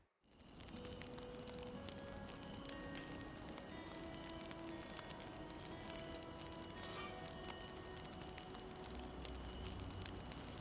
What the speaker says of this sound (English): Sounds like a good campfire.